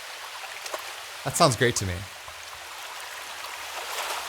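Waves crashing in an outdoor field recording with the low end filtered away, a steady hissing wash of surf that continues throughout, with a voice speaking briefly in the middle.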